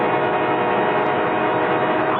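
A train rolls through a rail crossing with a loud, steady roar and a sustained horn-like tone, close and continuous, with no talk.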